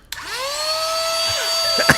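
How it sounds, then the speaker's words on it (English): A small handheld miniature vacuum cleaner switches on with a click and runs with a steady, close, high-pitched whine and a slight pitch wobble. "It's a little miniature vacuum."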